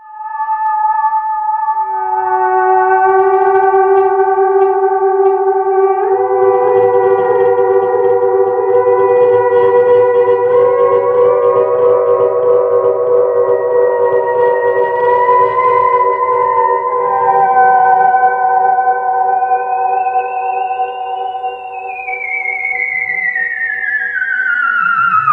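Moog Claravox Centennial theremin through its analog delay pushed into self-oscillating feedback with distortion, loud sustained siren-like tones that sweep and slide in pitch, layered repeats piling up with a gritty buzzing underlayer, continuous for the whole stretch.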